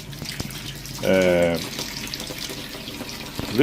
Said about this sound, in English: I start to wash the leaves under the running water